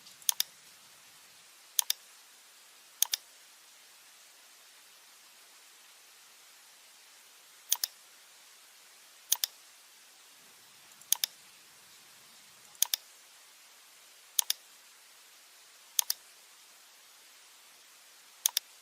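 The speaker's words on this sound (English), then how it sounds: "click on the nodes of the roof." Mouse clicks while selecting roof nodes in RFEM 6 structural engineering software: sharp, quick clicks, mostly in close pairs, spaced irregularly over a quiet background hiss.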